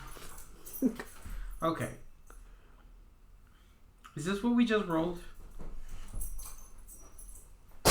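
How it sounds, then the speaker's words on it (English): A dog yips and whimpers in short bursts in the background of a room while people talk and laugh over it during a tabletop game session. "that dog is just going crazy"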